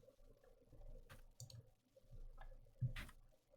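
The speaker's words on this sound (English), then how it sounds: "I'm just typing the words in" Quiet, close keyboard typing while a tweet is written: a few scattered clicks and taps at an irregular rhythm, with soft low thumps between them and no talking.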